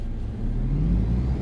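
Engine of a traffic car in On The Road Truck Simulator revving up as it pulls away from a stop in a junction, a steady low whir rising in pitch, loud and close with no talk.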